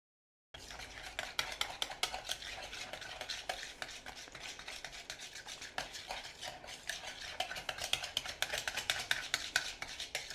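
Cranberry orange scone batter being stirred and combined in a bowl, a steady run of scraping, clinking strokes that carries on close and fairly quiet for the whole stretch, with no talking.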